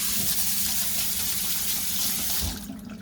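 Tap water running steadily into a bowl while rice is washed in it, a loud close gushing stream that eases off at the end.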